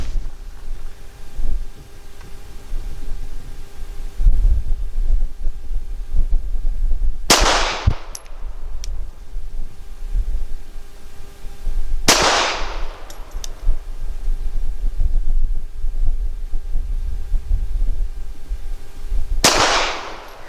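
Three loud, sharp pistol shots from a SCCY CPX 3 firing PPU 94 grain jacketed hollow points, spaced about five seconds apart over steady wind noise outdoors.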